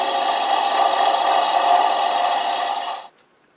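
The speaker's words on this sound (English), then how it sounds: "sand it off a little bit" Sandpaper rasps against a small wooden pig figure turning slowly on a lathe, a steady, close, loud abrasive hiss that holds for about three seconds and then cuts off abruptly into silence.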